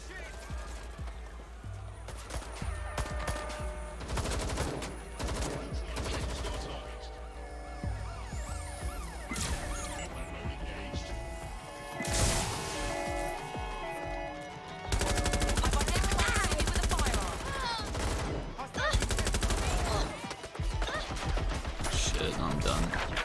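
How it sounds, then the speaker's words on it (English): Rapid gunfire and machine-gun bursts crackle through a chaotic combat scene in the video game Watch Dogs: Legion, loud and continuous over sirens, music and shouting voices. "I'll shoot!"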